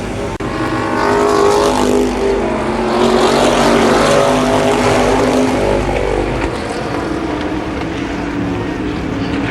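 IMCA modified race cars roar through a heat race at Columbus Motor Speedway in 1993, a loud, dense engine drone that swells and shifts in pitch as the cars pass, sustained without pause.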